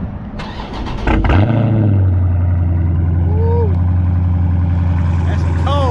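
Raiden SS car engine cold-starting: a cranking burst just after one second catches into a loud, steady low idle that holds to the end, with a brief spoken exclamation and a few short whistling tones over the running engine.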